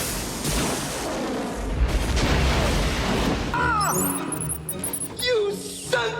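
A loud, low booming blast from the Batman Forever film as Robin is blown up, a heavy rumbling explosion followed by scattered pops and chiming electronic effects.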